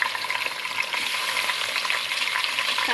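Chicken frying with onions in a pot, a loud, dense, continuous hiss and crackle of hot oil, steady throughout with faint stirring movement.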